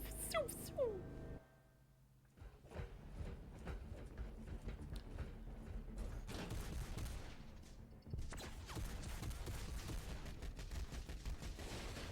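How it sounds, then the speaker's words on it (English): Rapid bursts of gunfire and ricocheting bullets from Warhammer 40,000: Space Marine rattle through a corridor fight, dense and sustained after a brief lull, with a voice talking over the shooting. "You love bouncing bullet noises?"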